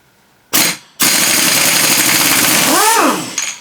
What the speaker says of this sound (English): It's the wonderful thing about impact guns. They don't actually put that much torque on, it's all about banging.